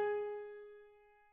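Notes a unison or octave apart struck together ring out as one clean, blended tone, loud at the attack and then fading smoothly in a quiet room.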